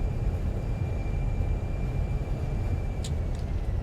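Steady broadband roar of an airplane touching down and braking on a short runway in Microsoft Flight Simulator, a continuous engine and rolling rumble at constant loudness with a faint tonal whine, no voices.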